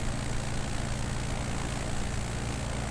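A light propeller aircraft engine drones steadily at close range in Microsoft Flight Simulator 2020, a constant even hum with no changes in pitch or voices.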